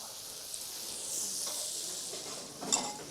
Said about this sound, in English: Now I must quickly fry some mushrooms in butter.